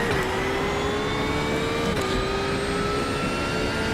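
A race car in iRacing's 24 Hours of Daytona endurance race holds a loud, steady high-revving engine whine with a brief gear-change dip near the two-second mark, other cars droning faintly behind it.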